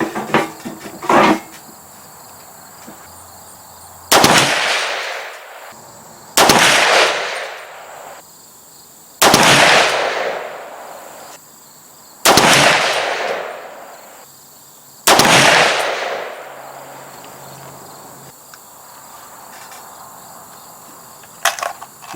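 Five supersonic 300 Blackout rifle shots firing 168gr A-Max handloads, each a sharp loud crack with a short decaying tail, spaced about two to three seconds apart with quiet gaps between.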